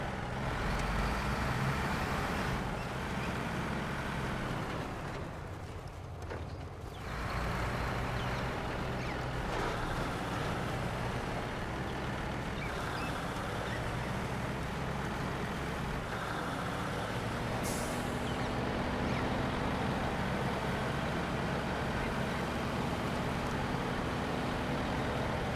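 A Paystar truck in SnowRunner grinds steadily through sandy, muddy water, its engine a constant low rumble with a brief dip partway before droning on unbroken, close and alone.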